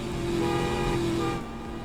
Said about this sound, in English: The horn is okay.